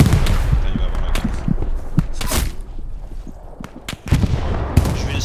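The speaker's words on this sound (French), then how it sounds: "Artillerie, artillerie" Artillery and gunfire boom across a Hell Let Loose battlefield, loud sharp blasts and cracks spaced irregularly over a rumbling background, with occasional footsteps.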